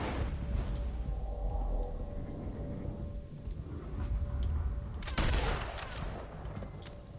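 Gunfire in Red Dead Redemption 2, a cluster of sharp shots crackling over a low ambient bed, with the loudest burst landing near the end.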